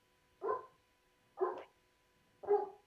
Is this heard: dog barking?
yes